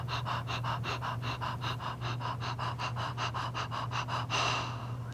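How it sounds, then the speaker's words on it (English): A singer's breathing exercise: a breath in followed by a long run of quick, even pants, about twenty short puffs in steady rhythm, close and clear over a low hum, with no talking. "keeping that collarbone area nice and open, breathing in, and we pant"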